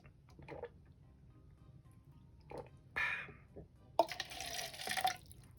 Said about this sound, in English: I'm going to go ahead and put some water in my red Solo cup